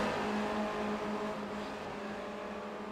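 Formula Renault race car engine droning steadily at high revs on a circuit during a race, a continuous buzzing whine that eases slightly in level.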